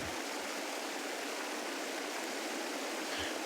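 Steady flowing water in the VRChat game, a continuous rushing stream-like wash that holds an even level throughout with no voices over it.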